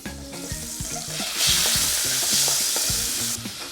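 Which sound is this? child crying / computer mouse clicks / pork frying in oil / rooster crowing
pork frying in oil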